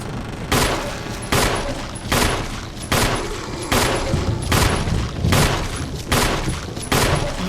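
Repeated bursts of heavy gunfire in the Resident Evil video game, roughly a dozen loud booming shots at a fairly regular rhythm, each with a short decaying tail and no talk.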